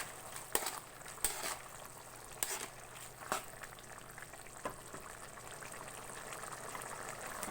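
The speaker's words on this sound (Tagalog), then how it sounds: "nagbukal-bukal na guys ang atong ginisang papaya with sardinas" Sautéed papaya with sardines bubbling in a pot, a faint continuous simmer with soft sizzle, broken by a few sharp clicks and taps of utensils against the cookware.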